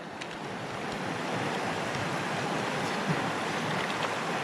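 River water rushes steadily at a knee-deep crossing of the Little Missouri in Ouachita National Forest, Arkansas, a dense broadband wash that swells slightly and stays constant, close and loud.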